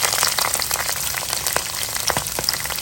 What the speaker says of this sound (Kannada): ಇವಾಗ ಕಟ್ ಮಾಡ್ಕೊಳ್ಳೋಂಥ ಈರುಳ್ಳಿಯನ್ನು ಸೇರಿಸ್ಕೊಳ್ಳೋಣ.